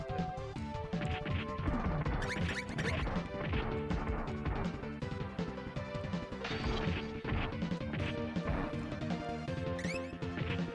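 Repeated smashing and thwacking hits from the SNES brawler Ninja Warriors as glass is broken, loud and continuous over dense game music with no talk.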